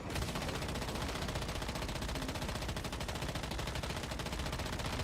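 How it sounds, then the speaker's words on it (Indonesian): Missile fire in the survival shooter Once Human comes as a dense, loud, unbroken barrage of rapid blasts that fills the whole stretch with sustained, roaring gunfire-like bursts. "Nembak pakai misil tuh dia."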